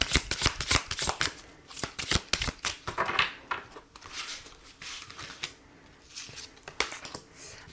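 Tarot cards riffled and shuffled by hand, a fast run of crisp snapping flicks, then softer sliding and tapping as cards are laid out, close and clear with no voice.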